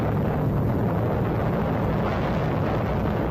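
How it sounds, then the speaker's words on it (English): An atomic bomb explodes over Hiroshima in archival broadcast audio, a loud, steady, rumbling roar of noise that fills the whole stretch without letting up. "This is the moment the U.S. hit Hiroshima with a weapon so powerful, it wiped out whole communities in seconds."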